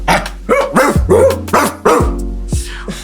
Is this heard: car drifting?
no